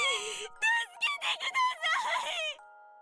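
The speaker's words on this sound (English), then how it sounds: "I hear Kotori scream from somewhere far away." A drawn-out female scream from Kotori in the visual novel Rewrite+, a wavering high-pitched wail broken into several rising and falling bursts, fairly loud, ending over a faint steady hum.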